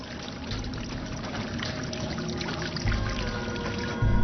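Water flowing steadily in a continuous rushing pour, fairly loud and close, with a couple of brief surges near the end and no speech.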